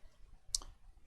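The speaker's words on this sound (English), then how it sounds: "Then I'll click save" A single crisp computer mouse click while saving a file, one short near snap standing out against a quiet room.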